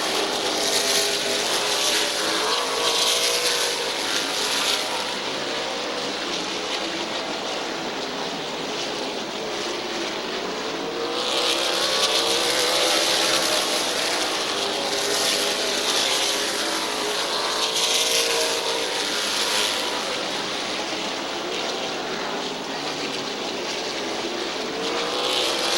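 Race cars circle Midvale Speedway in a continuous loud engine roar, the pack's pitch swelling and fading as cars pass at varying distances throughout.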